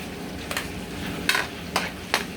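Ginger sizzles steadily in a hot pan as a chicken curry is started, with a few short scraping stirs breaking through the continuous close frying hiss.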